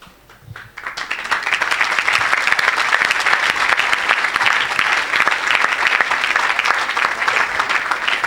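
A church congregation at a healing service bursts into sustained applause, starting from a near-quiet moment and quickly swelling into dense, loud clapping that carries on evenly to the end.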